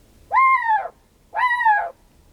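Two hooting calls from a flammulated owl, each a short, low, slightly rising-then-falling hoot about a second apart, clear and close against a quiet background.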